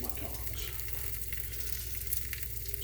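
Leftover ribeye steak and sides reheating in a pan, a dense, steady crackling sizzle with fine popping spatter, close and continuous with no talking.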